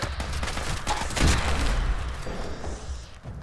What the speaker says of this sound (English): Who is dropping grenades?